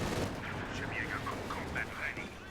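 Gunfire and cannon blasts from a WWII battle video game involving Panther and Pershing tanks crackle in dense overlapping bursts, with muffled booms and high whistling effects throughout.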